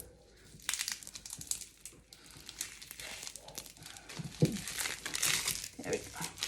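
Tape being peeled off a PVC pipe soap mold, bursts of crinkling and tearing crackle that come and go with a few short peaks, close by, with a person talking over parts of it.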